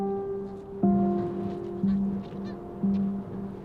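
Snow geese during their great migration, honking in a steady rhythm of nasal calls, several loud, close ones standing out over a continuous chorus of the flock.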